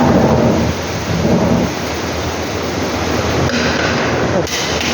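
Heavy rain pours steadily in a broad, dense hiss with low rumbling underneath, loud and continuous throughout, without talk.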